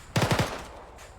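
A quick burst of four or five rapid automatic gunshots in Arma 3, close and loud, followed by a short fading echo.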